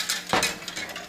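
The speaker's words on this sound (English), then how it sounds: "So I'm going to stir up the cornstarch" Spoon stirring a cornstarch mixture in a pot while making tembleque, a Puerto Rican coconut pudding, giving a sharp metallic clink followed by lighter scraping taps, close and brief.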